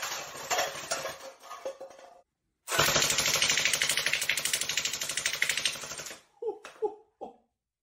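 Rapid automatic fire from a CosmoxToys gel blaster, a loud rattling burst of fast, evenly spaced shots that stops abruptly after a short pause, followed by a few separate clicks and knocks.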